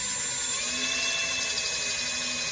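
A power drill bores steadily into an aluminum fin during a Yamaha jet installation, a continuous high whine with no pauses, close and fairly loud.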